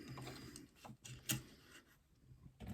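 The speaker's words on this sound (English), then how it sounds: "because I've got a flatbed machine, I'm kind of stitching on the inside of that circle that I've created" A flatbed sewing machine stitches in short mechanical bursts, a quiet whirring and clicking that starts and stops with small pauses in between, close up and without any talking.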